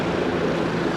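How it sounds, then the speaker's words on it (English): Helicopter engine and rotor noise near a heliport along New York City's East River, a loud steady drone sustained throughout without talk. "We got a heliport right here, so you're gonna hear helicopters"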